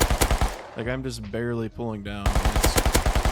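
Rapid bursts of automatic gunfire from a gun in the video game Rust crackle at the start and end, with someone talking over a pause in the shooting between them.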